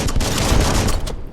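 An explosion in the video game Biomutant: a loud, dense blast of crackling, booming noise that fills the moment and then cuts off.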